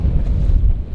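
Heavy wind buffets the microphone on a boat dock, a dense, low, roaring rumble that stays loud and steady throughout with no voices.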